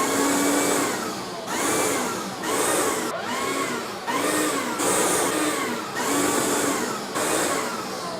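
A DeWalt DCV586 cordless vacuum cleaner runs in steady loud bursts of whining motor and airflow, cycling on and dipping roughly every second or so, with a high hiss on top and no talk.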